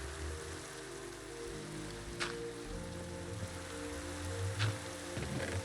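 Steady rain hisses in the blocky sandbox game Minecraft, a soft continuous patter with a couple of brief splashy accents, moderately loud over a low background hum and without speech.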